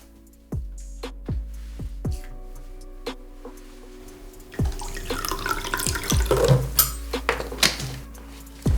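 Water from a tap, preceded by several sharp clicks and taps, then a rushing, splashing flow near by with small irregular bursts.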